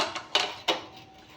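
Metal lid set down on a pan of okra frying with turmeric, giving two brief clinks of metal about a third of a second apart over a low sizzle, close and fairly quiet.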